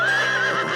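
A cartoon horse lets out a short, loud, wavering neigh, close up and alone.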